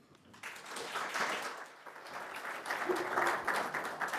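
An audience at a conference panel session on GxP operations claps steadily for several seconds, a moderately loud, dense patter of applause with faint voices mixed in.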